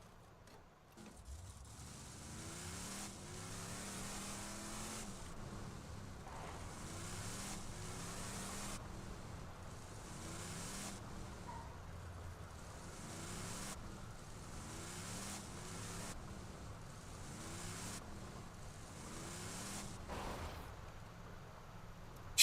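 A vehicle in Borderlands 2 driving with a steady droning engine that rises and falls in repeating cycles of revving, moderately loud and continuous for the whole stretch.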